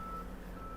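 A work truck at a construction site lets out a short, steady tonal beep, faint and distant, heard alone for under a second.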